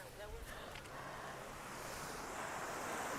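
Ocean waves surge on the New Zealand shore in a steady, swelling wash that grows louder toward the end, mixed with wind buffeting the microphone and a brief voice at the start.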